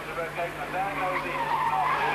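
A Porsche race car spins during a 1989 BF Goodrich Porsche Club GB Championship race, its tyres skidding in a wavering squeal over engine noise, heard fairly close beneath a commentator's voice.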